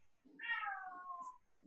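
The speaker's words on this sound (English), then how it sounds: "there's like a cat somewhere in my neighborhood. I can hear it right now" A single drawn-out meow from a cat somewhere out in the neighborhood, faint and distant, rising then sliding down over about a second against a quiet background.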